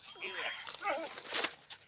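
Dogs in a film scene whimper and yip in short, wavering cries, fairly quiet and mixed with people talking.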